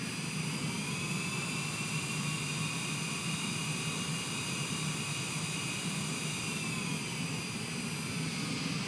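A Challenger 350 business jet taxiing, its engines giving a steady, loud whine and roar with a broad rushing hiss that holds without a break throughout.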